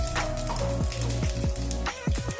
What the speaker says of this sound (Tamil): எண்ணெய் நல்லா காஞ்சதோ 1 டீஸ்பூன் சீரகம் போட்டுக்கோங்க.